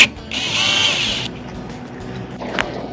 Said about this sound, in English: so it gets marked and the first hole is drilled